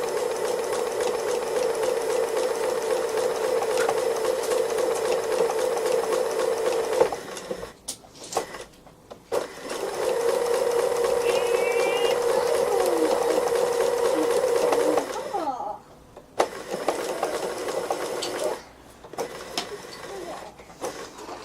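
A sewing machine stitches a free-motion embroidery outline on an autumn owl wall hanging, running in a steady fast whirring buzz for several seconds at a time, with brief stops and restarts, close and loud.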